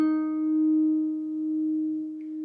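A single sustained electric guitar note held steady after a pull-off to the 9th fret, part of a slow run-through of a song, ringing clean and close before slowly decaying.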